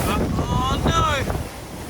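Open ocean beach with big swells rolling in, strong wind buffeting the microphone in a steady roar while a voice calls out briefly over the surf.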